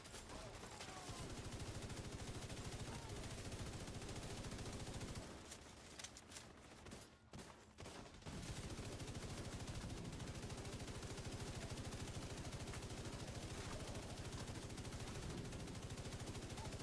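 Rapid automatic gunfire in a shooter game, a dense continuous rattle of shots that briefly breaks off midway, then resumes at the same steady level.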